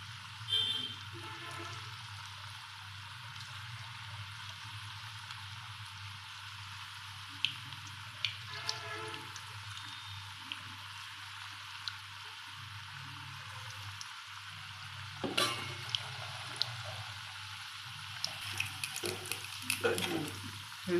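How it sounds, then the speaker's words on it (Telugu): Small okra pakodi fritters fry in hot oil with a soft, continuous sizzle and scattered pops, plus occasional clinks and stirring sounds partway through. "ఇవి వేగుతున్నాయి"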